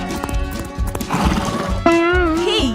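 A loud, close horse sound effect plays: clip-clop hoofbeats come first, then a long, high neigh that wavers and trails off at the end.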